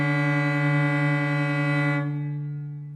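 Two bowed cello notes in third position, the first finger played slightly flat against the open D string, a steady sustained double stop with harsh beating dissonance, the upper note dropping out after two seconds as the low tone rings on.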